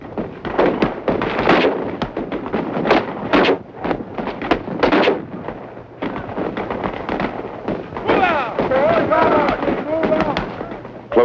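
Live-ammunition gunfire from five-man fire teams on a pockmarked hill during a military close-combat training exercise, a dense, continuous barrage of sharp cracking shots and bursts, loud and near, with voices shouting among the firing.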